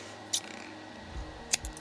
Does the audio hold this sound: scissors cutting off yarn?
yes